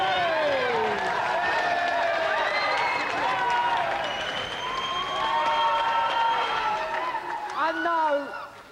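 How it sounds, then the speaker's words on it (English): A game show studio audience applauds and cheers for the champion: steady, dense clapping and whooping from a close crowd, continuous for several seconds before fading. "Another round of applause for our champion, Alex."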